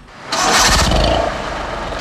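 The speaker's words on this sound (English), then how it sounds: "Engine wheezing, tyres that have seen much better days." An old, worn Beijing taxi engine starts up with a loud broadband roar, then settles into a rough, wheezing idle that continues steadily, up close and with no talk over it.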